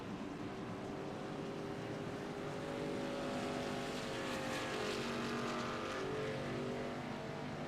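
Race truck engines in a Truck Series racing video game at New Hampshire, a continuous droning roar of multiple engines that swells slightly midway, with no talk.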